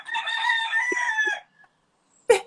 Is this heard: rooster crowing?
yes